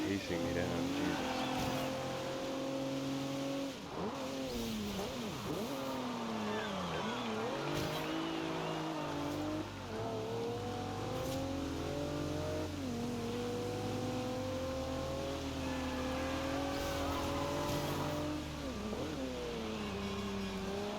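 An Audi race car in Forza Horizon 2 roars steadily throughout, its engine pitch climbing and dipping through repeated revs and gear changes, loud and continuous with another voice talking over it.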